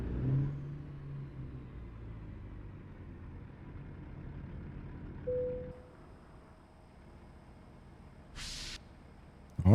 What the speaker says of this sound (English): let's turn the engine off